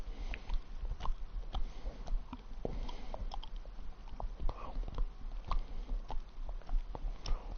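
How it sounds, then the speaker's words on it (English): Close, wet chewing and biting while watching a Snooker 19 match on PS4, with irregular mouth clicks and soft smacks repeating steadily over a low background hum and no speech. "Sorry for the chewing noise, just chewing them."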